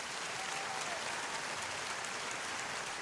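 Applause from a live radio broadcast audience, a continuous wash of clapping heard at moderate, even volume throughout, with no voices over it.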